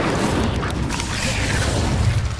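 Incendio fire spell cast in the Hogwarts Legacy video game, a dense, steady roaring burst of crackling fire and low booming rumble sustained loud throughout with no pauses.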